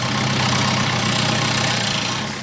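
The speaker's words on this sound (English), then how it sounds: "they've done everything they realistically can to make the lawnmower run on biogas" A lawnmower engine running on biogas from cow manure, a loud steady rumbling drone held close up without pause and easing slightly at the end.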